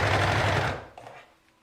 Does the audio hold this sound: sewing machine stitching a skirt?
yes